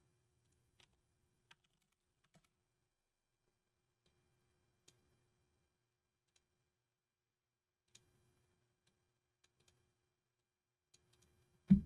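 Typing on a computer keyboard, a sparse scattering of faint, isolated key clicks spread irregularly across a quiet background, ending with a louder thump.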